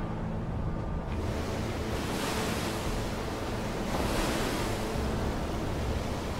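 Ocean surf on Omaha Beach as the tide rises, a steady, loud wash of breaking waves with broad roaring noise and wind buffeting the microphone throughout, with no voices.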